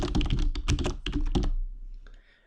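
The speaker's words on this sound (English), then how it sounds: "we're going to actually type in the word happy there" Rapid clacking of computer keyboard keys while entering text in a Windows app, dense irregular keystrokes close up for about a second and a half, then trailing off into faint quiet clicks.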